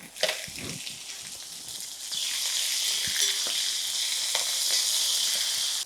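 Dry chillies and fenugreek leaves fry in hot oil for a tempering, a steady close sizzle that swells louder partway through and keeps crackling with no talk.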